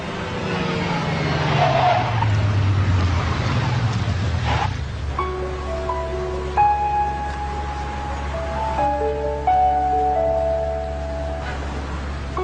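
A car drives along a street, its engine rumbling and sweeping downward in pitch early on, then settling into a steady low drone while music with sustained tones plays over it.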